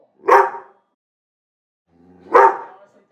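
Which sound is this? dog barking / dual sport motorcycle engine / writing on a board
dog barking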